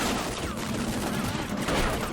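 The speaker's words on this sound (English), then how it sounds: "There are units firing back every so often." Gunfire in the war game Combat Mission Shock Force 2, a steady loud battle din of overlapping shots and bursts filling the whole stretch, with no talk over it.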